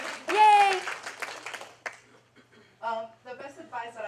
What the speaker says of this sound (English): Give yourselves a hand.